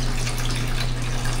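A shower sprays water in a steady, close, full hiss that runs without a break and has no voices over it.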